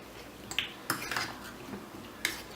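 Omelette ingredients are mixed in a bowl, with several sharp clinks and scrapes of a utensil against the bowl at an uneven pace, close and moderately loud, with no talk.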